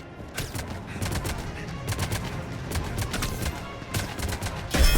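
Rapid gunfire in the video game Mass Effect, dense crackling shots in bursts across the whole stretch, loud and close, with a voice mixed in underneath.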